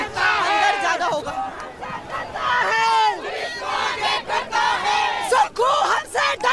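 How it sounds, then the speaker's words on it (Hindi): A large angry crowd of protesters shouts and chants near police barricades at a Shimla mosque demonstration, with many raised voices overlapping in loud surges and continuous babble. "लेकिन लगातार भीड़ पूरी तरह से यहाँ पे उग्र होती चली जा रही है"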